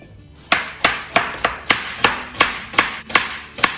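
A knife chops ingredients for a budget chicken biryani on a board, about ten crisp, evenly spaced strokes, close and clear with no talk.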